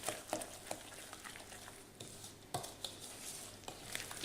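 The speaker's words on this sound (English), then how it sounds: "Give it a good mix" A spoon stirs a dairy-free, gluten- and egg-free mixed fruit loaf batter in a bowl, giving soft, irregular scraping strokes and light knocks. The sound is faint and close, with no talking.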